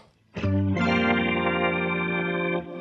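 An Electro-Harmonix C9 Organ Machine guitar pedal gives a sustained organ-like chord that swells in with heavy, swirling modulation, rich and loud, holding steady for about two seconds before cutting off.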